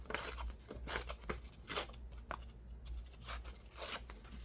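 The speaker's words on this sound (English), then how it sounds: "when you fold this older paper, it's going to work with you and be able to easily tear it along the lines" Old book paper being torn along a fold, a run of short dry ripping bursts spaced irregularly over a few seconds, close and fairly quiet with light rustling between tears.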